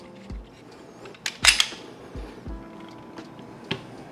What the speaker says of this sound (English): pull back on the slide to make sure that it holds open for last round hold open